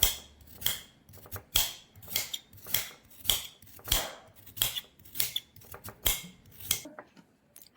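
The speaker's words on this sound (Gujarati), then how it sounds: "હવે તેના આપણે નાના નાના ટુકડા કરી દઈશું." Knife chopping peeled carrots into small pieces on a cutting board for carrot halwa: a steady run of crisp, close chops, roughly one or two per second, with no talking.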